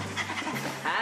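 A dog pants in short quick breaths, close by, with a voice talking over it.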